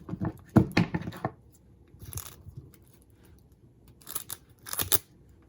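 Adhesive tape being handled and torn while making a DIY Christmas wreath: close crinkling, rustling and sharp tearing rips that come in several separate bursts, with no voices.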